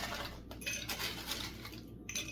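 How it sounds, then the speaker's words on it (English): Ice cubes are scooped into a glass for iced coffee, producing a few close clattering, clinking rattles over a quiet background. "Put a bunch of ice in there"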